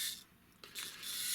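A Toyworld Concrete (Mixmaster) Transformers figure having its arms split and folded out, giving a brief hiss-like scrape followed by a short ratcheting click of the plastic joints, close and quiet.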